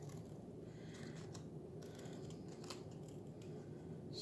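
Thin strips being cut for a frottage rubbing make quiet, close snips and small mechanical clicks over a low, steady background hum, with no talking.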